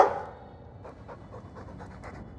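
A Mabari war dog in the video game Dragon Age 2 panting, short rhythmic breaths close by after a brief opening burst, fairly quiet and alone.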